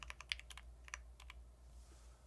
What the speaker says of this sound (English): What am I typing?